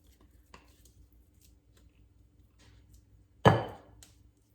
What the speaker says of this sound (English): gonna put our sweet potatoes in here